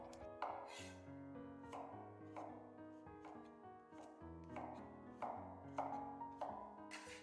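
A knife chops water bamboo (jiaobai) into roll-cut chunks on a cutting board, about a dozen close, crisp thuds in an uneven rhythm, each sharp strike ringing over quiet background sounds.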